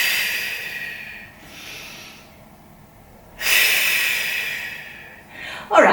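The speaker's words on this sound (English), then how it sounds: "Breathe in and breathe out." Slow, deep breaths in and out during a Pilates stretching class: a few long airy exhales, a short pause, then a louder drawn breath and a sharp final intake, close by.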